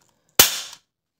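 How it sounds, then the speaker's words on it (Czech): A single sharp, loud crack from a Glock-like airsoft pistol with a quick, bright snap that fades within a fraction of a second, alone in silence. "Ale poslouchejte si zvuk výstřelu."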